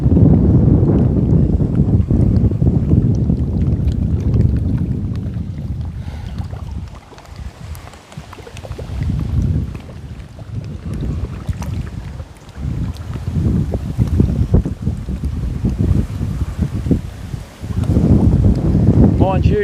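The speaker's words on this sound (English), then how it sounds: "Mind you, this wind wasn't meant to be coming from the southeast" A southeast wind on a river during a fishing livestream rumbles and buffets the microphone in strong, uneven gusts for nearly twenty seconds, easing briefly mid-way, with someone talking intermittently underneath.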